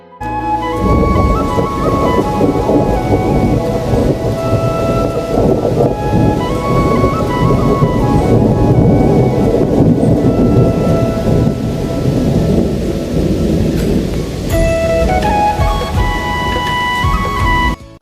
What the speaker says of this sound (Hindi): और अब चल रही है आंधी।